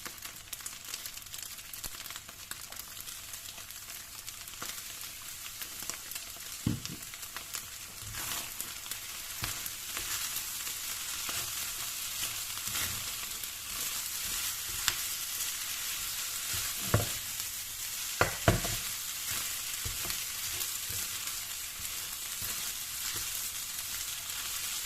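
Tuna and egg fried rice sizzles steadily in a pan for a long stretch, with a spatula stirring and scraping through it and occasional louder clacks against the pan.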